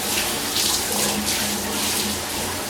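Running water poured over a head to wet it before a head shave, a loud, close, steady gush and splash that fills the whole stretch.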